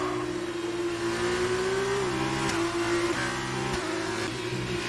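A Sauber Formula 2 car engine in F1 2019 at Bahrain, a steady high-revving drone that dips and climbs through gear shifts, held loud and close the whole time with no talking over it.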